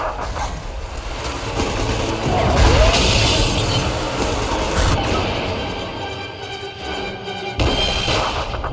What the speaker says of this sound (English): Destroy those glass tubes to flood the room